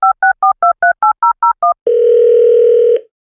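A telephone call is placed: nine short paired-tone touch-tone beeps in quick, even rhythm, then a steady, loud dial or ringing tone holds for about a second before cutting off. No voices.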